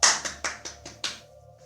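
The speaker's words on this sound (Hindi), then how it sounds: "अपने लिए ताली बजाइए" A small group clapping hands at the end of a yoga practice session, about six quick, evenly spaced claps that fade out, with no talking.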